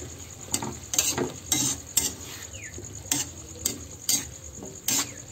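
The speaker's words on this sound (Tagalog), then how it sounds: "Ayan, halu-haluin lang natin." Food being stirred in a frying pan with added seasoning, a utensil scraping and clinking against the pan in repeated sharp strokes over a soft, steady sizzle; no voices.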